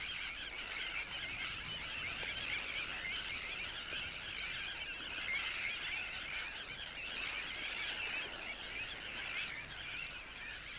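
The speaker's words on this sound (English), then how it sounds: "Among all the clamouring birds and squawking chicks, the parents and young actually manage to meet up" A tern colony of clamouring adult birds and squawking chicks, a dense, continuous chorus of shrill calls filling the air without pause.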